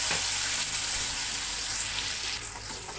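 Ground spice paste of shallots, garlic and cumin sizzling steadily in a hot pan, a continuous bright frying hiss at even loudness with no voices.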